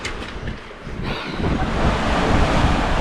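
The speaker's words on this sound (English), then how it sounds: "Some unexpected wind arrives. And the sea state's definitely picked up." Unexpected wind of about 20 knots and rough, building sea waves while sailing the Indian Ocean: a continuous rushing roar of surf and gusty wind noise that grows louder after the first second.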